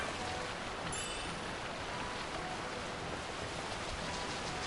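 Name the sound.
heavy rain in Final Fantasy XII video game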